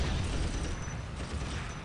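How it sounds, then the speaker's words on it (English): Loud explosion from the real-time strategy game Dawn of War Soulstorm, a dense low rumbling blast that stays heavy and sustained for about two seconds amid battle noise, with no talk. "Huge explosion on those flayed ones there."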